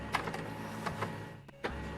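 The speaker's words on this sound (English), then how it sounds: "the printer's going overtime here" A printer in the game Rimworld printing many pages, a continuous mechanical whir with a few short clicks and feed clunks, quiet and steady.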